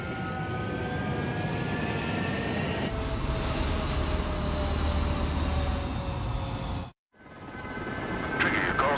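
Fighter jets roar down a runway on takeoff in Ace Combat 7, a loud sustained engine whine with rising tonal streaks that cuts out abruptly near the end, then swells back in.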